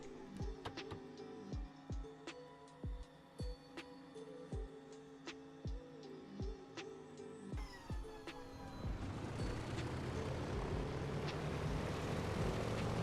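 A simulated Douglas DC-3 radial engine turns over with steady, rhythmic clanking cranks, then catches and settles into a loud, continuous roar, heard alone with no talk.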